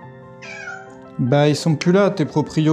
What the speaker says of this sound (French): il y a un chat qui miaule